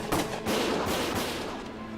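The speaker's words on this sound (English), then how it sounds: "Gunfire!" Gunfire in Valkyria Chronicles Remastered, a wartime tactical video game, with a few sharp shots cracking over a dense rumbling battle backdrop that stays loud and steady throughout.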